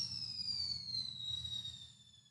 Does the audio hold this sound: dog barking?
no